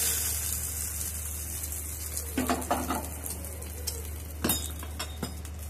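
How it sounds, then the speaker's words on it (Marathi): Hot tadka tempering with asafoetida poured over appe batter, crackling and sizzling in a steady hiss with a few sharper spits and clinks of a pot or spoon, close and alone without talk. "आता हा तडका गरम गरम तडक्यात टाकून घ्यायचंय सगळं."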